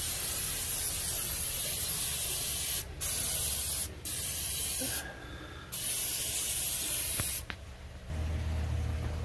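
Pam cooking oil spray hisses onto a smoker in long continuous bursts, with a few short pauses between sprays and a low hum once the spraying stops.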